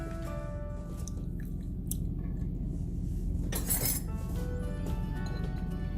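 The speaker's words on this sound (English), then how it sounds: "Give it a good stir" Metal spoon clinking and scraping against the inner pot of an Instant Pot while stirring beef biriyani rice with dry red chillies, lemon and salt, a close run of small clinks and scrapes with a brief louder rustle midway.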